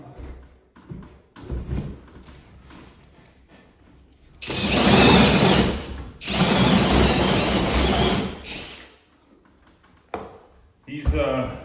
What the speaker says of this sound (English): hole saws are a huge drag on these drills